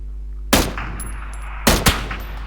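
Two sharp, loud sniper rifle shots in PUBG ring out about a second apart, each a hard crack with a short echoing tail, over a low steady background hum.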